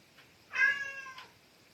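A pet cat named Ginger lets out a single clear, drawn-out meow of under a second, fairly close but moderately quiet indoors, with a faint softer sound before it and no talking.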